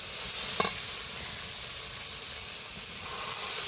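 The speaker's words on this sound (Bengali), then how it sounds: "অল্প একটু জল দিয়ে ভালো করে মশলাটা কষিয়ে নেব হলুদ লবণের সাথে" Spice paste with turmeric and salt sautéing in a pan for a thin Bengali pabda fish curry, a steady loud sizzle with one brief stir scrape, close and continuous.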